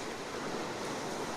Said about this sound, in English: go around to the pier and get the waves against the rock wall